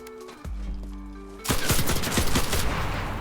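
Machine gun fire in the World War II shooter Enlisted opens as a loud, rapid burst after a tonal mechanical hum and continues as dense, close automatic shooting to the end.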